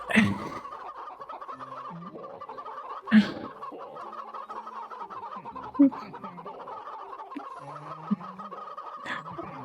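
A chicken in the VRChat game clucks in several separate bursts spaced a few seconds apart, fairly close and distinct over a quiet, steady background hum.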